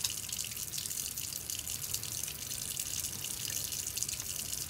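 Running water flows steadily over clay while it is squeezed by hand, a continuous close hiss and splash with a soft wet texture throughout.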